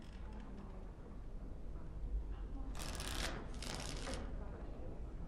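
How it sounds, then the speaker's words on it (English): Playing cards are shuffled in Dragon Age Origins, heard as two short, bright riffling bursts near the middle over a steady low background hum, with no talk during the shuffle. "Before we start, the cards must be shuffled."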